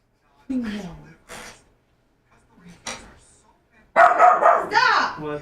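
Small dog barking in short bursts near the microphone, a few yips early then a louder flurry of barks at the end, with someone speaking between them.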